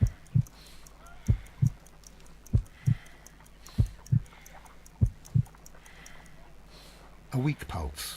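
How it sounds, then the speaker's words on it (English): Slow, evenly spaced heartbeat thuds from the Sherlock Holmes: Crimes & Punishments video game, a weak pulse around 50 beats per minute, with a low hum beneath and a brief louder burst near the end. "I need to concentrate and count the heartbeats."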